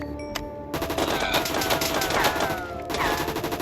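Rapid automatic fire from an M4 rifle in Modern Warfare 2.0, a dense continuous stream of loud shots running for several seconds, with a few clicks and faint speech at the start.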